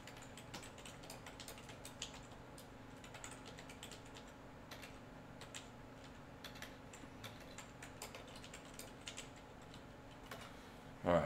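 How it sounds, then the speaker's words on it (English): Computer keyboard typing in quick, irregular bursts of soft clicks, faint and close, over a low background hum, ending with a louder clatter. "let me see if I can type those in."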